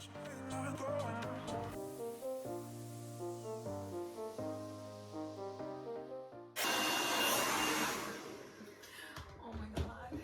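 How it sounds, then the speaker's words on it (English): After several seconds of tonal background music, a handheld hair dryer blow-drying freshly bleached hair switches on abruptly and roars loud and close with a steady broadband whoosh. "I'm gonna blow dry it"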